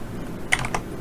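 Computer keyboard keys are struck in a few quick taps, the Tab key and then the space bar, crisp clicks close by in a quiet room.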